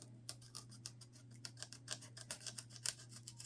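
A knife blade trims the covers of old books: a run of quick scraping cuts and ticks in an uneven rhythm, close and fairly quiet over a steady low hum.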